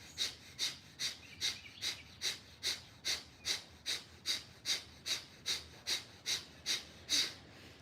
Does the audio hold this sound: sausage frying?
no